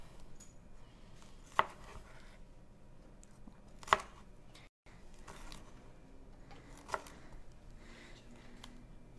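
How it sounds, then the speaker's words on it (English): A kitchen knife cuts thin slices of bell pepper on a cutting board, giving a few sparse, sharp taps against the board over quiet background noise. "If the pepper was like this, we're going to slice it really thinly."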